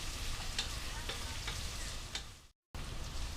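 Celery and onion frying together in a pot, a continuous close sizzle with soft stirring scrapes, cut by a brief gap.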